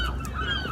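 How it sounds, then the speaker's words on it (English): Seagulls circling over a cannery near a boat, giving loud honking cries, a couple of short calls over a steady low background. "the boat and the seagulls circling around the cannery. Loud little cusses, aren't they?"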